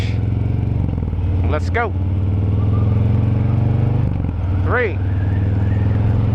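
A motorcycle engine drones steadily up close as the clutch is let out to pull away, with a rider speaking briefly over the rumble.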